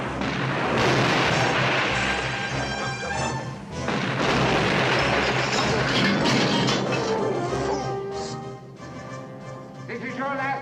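Dense, loud barrage of booming explosions and crashing impacts from bombs dropped during a bomb run, rolling continuously with overlapping blasts and heavy low rumble throughout.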